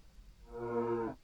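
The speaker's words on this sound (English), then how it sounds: "And they all mooed in unison." Blocky cows huddled together on a hillside in Minetest give a single drawn-out moo, several voices sounding in unison, clear and moderately loud against quiet background.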